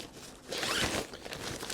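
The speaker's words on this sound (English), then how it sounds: "I like that it has a zipper and a carry handle." A quick zip of a zipper opening a waterproof nylon shoe bag, one rasping pull lasting about a second, close and fairly quiet.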